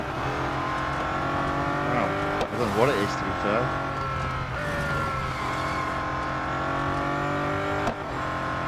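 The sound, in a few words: race car driving in video game Real Racing 3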